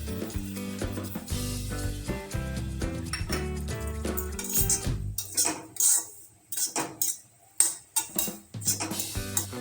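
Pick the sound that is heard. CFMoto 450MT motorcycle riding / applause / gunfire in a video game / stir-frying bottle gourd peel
stir-frying bottle gourd peel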